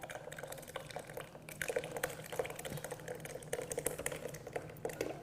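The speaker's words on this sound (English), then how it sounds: "You just pour the cooled ingredients right inside." Cooled ice cream ingredients are poured into an ice cream maker, making a faint, steady liquid trickle with small splashes and dripping throughout.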